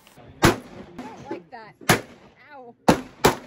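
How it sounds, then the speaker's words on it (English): Four loud, sharp revolver shots firing .38 Special +P rounds from a gun carried in a fanny pack, spaced about a second apart, with a person talking between the shots. "shooting 38 plus P in this is not the most comfortable experience ever"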